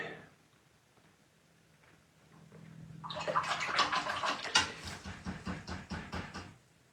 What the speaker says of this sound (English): Blotting and rinsing and blotting that brush.